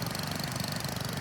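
A 1960s vintage garden tractor engine in Farming Simulator 25 putters at a steady idle, its low, rhythmic chugging even and unbroken.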